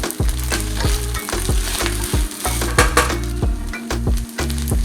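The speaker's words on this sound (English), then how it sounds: "I literally quick fried this within 5 minutes." Eggs, leftover rice and mixed vegetables sizzle loudly in a hot pan for bibimbap, the steady frying hiss broken by repeated rhythmic scrapes and clanks of a utensil stirring against the pan.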